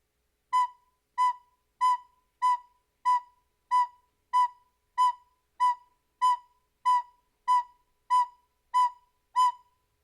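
A recorder sounds the note B fourteen times in an even, steady rhythm, each short tone clear and alone, followed by silence for the rest.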